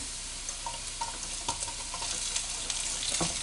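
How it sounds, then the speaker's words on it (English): Rice fries with garlic in a hot pan, a steady close sizzle broken by a few light scrapes and clicks from stirring, with no one talking. "next I'm gonna throw the pot of rice in"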